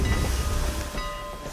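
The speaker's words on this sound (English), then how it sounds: "The steam train had become part of the American story. Look at this fabulous train." The Strasburg Rail Road steam train in Pennsylvania rolling on rails, a loud, steady rumble and rattle of heavy cars passing close by with a faint hiss.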